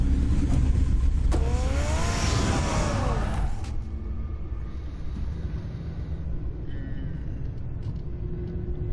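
Batman's car engine in Batman: The Telltale Series roars and revs loudly up close, then settles into a steady low rumble as the noise fades back.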